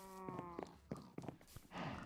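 A cow moos in a video game, a harmonic lowing call near the start followed by short clattering thuds and a burst of noisy sound, set in a farm scene with a barn.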